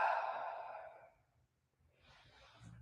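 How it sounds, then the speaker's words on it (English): A long audible exhale during a yoga class, breathy and fading over about a second, followed by a pause and a softer second breath starting up near the end. "Breathe."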